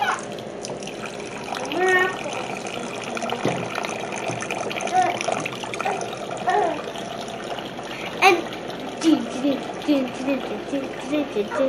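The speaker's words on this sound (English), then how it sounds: "the cider is draining now" Hard cider draining in a steady trickling, gushing flow of liquid, with people talking over it throughout.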